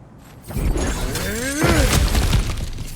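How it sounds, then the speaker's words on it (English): Objects shattering and crashing apart in God of War Ragnarök, a loud burst of breaking debris with scraping and tonal game effects layered over it, continuing in rough pulses. "Ah, back to smashing through things for fun and profit."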